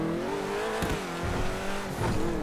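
A supercar in the video game GTA V brakes, its engine tone sliding downward with a brief tire squeal as it slows, loud and close.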